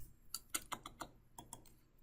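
Fingers tapping out a short command on a computer keyboard, about a dozen quiet, close keystrokes in two quick bursts with a brief pause between.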